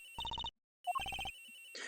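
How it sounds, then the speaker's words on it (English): A phone ringtone in the Ace Attorney Investigations video game plays a bright electronic trill in two bursts of rapid repeated beeps separated by a short pause, clear and alone. "Agent Hicks's phone! It's ringing from somewhere, sir!"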